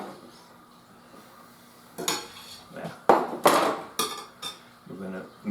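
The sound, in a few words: mixing mozzarella into leftover pizza chips in a bowl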